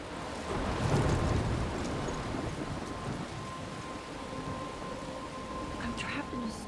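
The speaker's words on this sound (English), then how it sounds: "I'm trapped in a storm?" In the video game Life is Strange: Remastered, a thunderstorm pours steady heavy rain with a low rumble of thunder underneath, a constant dense hiss, fairly faint and continuous throughout.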